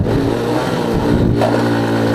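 A motorcycle engine labours up a steep hill climb in the Gorakh hills with a chain sprocket slipping, a loud, close, steady straining drone whose pitch wavers and dips briefly mid-pull.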